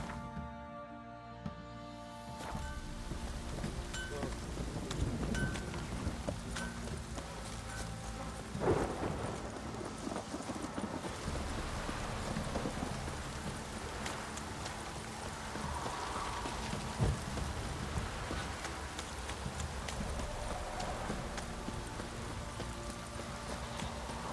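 A rainstorm in The Witcher 3 brings a steady hiss of rain with rumbling thunder rolling through, while horse hooves clip-clop beneath the downpour and no one speaks.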